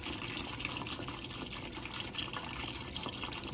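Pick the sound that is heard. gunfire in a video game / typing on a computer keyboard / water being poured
water being poured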